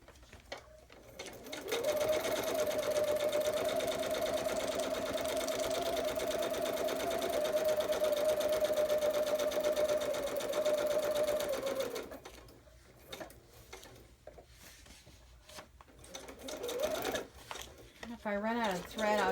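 Sewing machine stitching with thread at a steady, sustained hum for about ten seconds, then stopping, with speech and rustling after.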